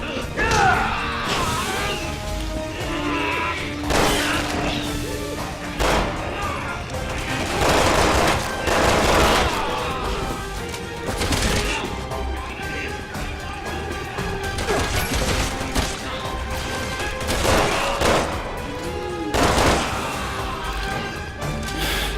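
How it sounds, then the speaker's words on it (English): Enemies fire guns nonstop in Resident Evil 6, with dense, crashing bursts of shots and impacts that overlap throughout and swell into louder volleys every few seconds. "But these ones just happily keep on shooting at you."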